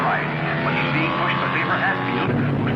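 Loud 1950s race cars roar continuously through a race, engine noise dense and steady under a commentator's voice.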